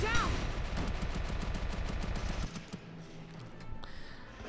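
Rapid gunfire in the strategy game Valkyria Chronicles, a dense burst of repeated shots lasting a couple of seconds, then quieter ambient game sound with a few faint clicks.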